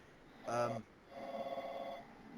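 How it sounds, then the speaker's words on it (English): A phone rings during a podcast recording: one short, bright electronic ring burst, followed by a person talking at moderate level. "I'm going to answer my phone."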